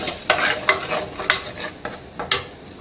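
Ground masala frying in a pan while a spoon stirs it, several sharp scraping strokes over a steady sizzle, close and loud with no talking.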